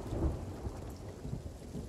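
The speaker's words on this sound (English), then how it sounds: "I'm in the middle of a storm." A thunderstorm in the Sea of Thieves video game: low rumbling thunder under a steady wash of rain. It plays on its own with no voices, at a moderate level.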